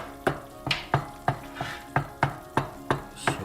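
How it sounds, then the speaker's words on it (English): A mustard-seed curry sauce in a pan over low heat gives a steady sizzle, broken by regular scraping strokes of a spoon about every third of a second, close and without speech. "So I'm going to simmer it in low temperature for a few minutes."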